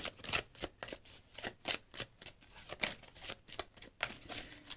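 Oracle cards riffled and shuffled by hand in a quiet room, a steady run of soft papery flicks and slaps repeating about twice a second, close and fairly faint, with no one talking.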